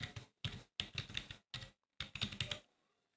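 Bursts of quick, close computer keyboard typing as an email address is entered, in several short runs separated by brief pauses, with no talking.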